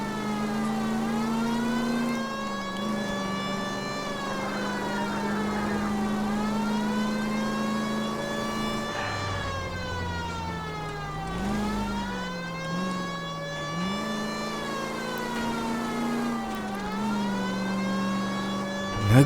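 Car engine in L.A. Noire, droning steadily with smooth rises and falls in pitch as it accelerates and eases off, near and loud throughout with no talk over it.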